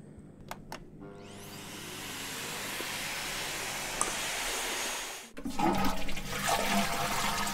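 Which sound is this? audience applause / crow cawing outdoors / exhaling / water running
water running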